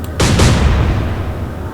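A naval gun fires in the Atlantic Fleet war game, a single loud, deep boom with a quick second blast right after, then a long rumbling decay that fills the rest of the moment.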